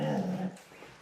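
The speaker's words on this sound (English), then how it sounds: "this is Max the dog" Max, a pet dog, lets out one brief whimpering whine up close, which trails off into quiet room noise.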